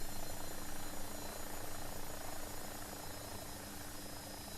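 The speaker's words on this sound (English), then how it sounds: "watching me here fly the helicopter is probably not the best thing" An X-Trident AW-109 helicopter in X-Plane 12 drones steadily throughout, a continuous dense rotor and turbine roar at constant level with no voices.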